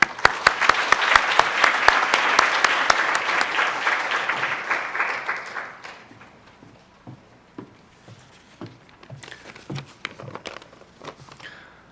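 An audience applauds warmly to welcome designer Yasutoshi Ezumi at a fashion talk, with loud sustained clapping that fades after about six seconds into scattered, trailing claps.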